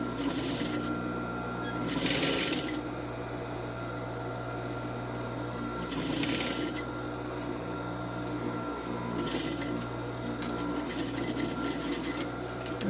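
A sewing machine stitches the seam of an A-line skirt near a zipper, a steady close mechanical whir in short bursts with brief pauses and slight rattling.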